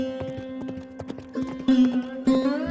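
Hooves of a cartoon horse clip-clop in a steady trotting rhythm, close and clear, with a sustained musical tone or whinny layered over the later steps.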